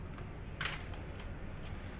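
Quiet typing on a computer keyboard, a few scattered soft key clicks over low room hum, with no talking.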